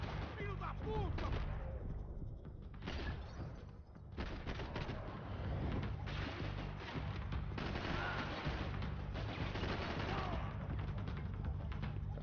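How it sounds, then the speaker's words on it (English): Bursts of video game gunfire in Max Payne 3 crackle through a dense, noisy firefight, shots rattling in rapid volleys alongside shouting voices, loud and busy throughout. "I can't see who's shooting."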